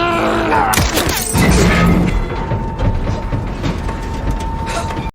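Glass crashing and shattering from a missed gunshot through a window in an action film fight scene, a loud burst of breaking debris early on, then a sustained mechanical rumble and ringing tail.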